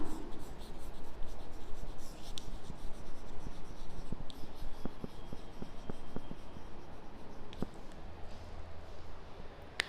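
Marker or chalk scratches and taps across a board during a maths lesson on Pythagoras' theorem, a close, continuous run of short strokes with a few sharp clicks.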